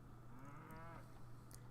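A single cow loaded in a cattle van in the Railroads Online game gives one drawn-out low moo, fairly faint over a constant background hum.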